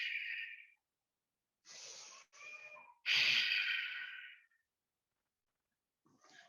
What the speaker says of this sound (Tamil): மூச்சு நல்லா இழுத்து விடலாம்.